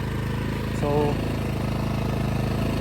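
A Toyohama generator engine idles steadily while warming up, a loud even chugging throb throughout, with a brief voice partway through.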